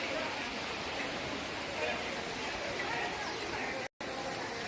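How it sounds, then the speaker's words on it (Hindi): The Manu Devi waterfall roars as steady broadband rushing water, loud and continuous with no break in the flow. "ये देख सकते हो आप झरना, ये झरना।"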